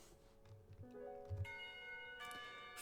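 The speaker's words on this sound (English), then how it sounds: "Finally, the bell rings." A school bell rings in the Katawa Shoujo visual novel, a bright chime with lingering tonal overtones that swells in two strikes over a soft game background, fairly close and clear.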